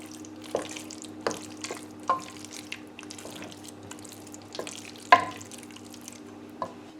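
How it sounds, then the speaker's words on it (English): A spoon stirs a fish pie filling in a dish, giving soft scraping and occasional sharp clinks against the bowl over a low steady background hum, with no talking. "Give that a good mix."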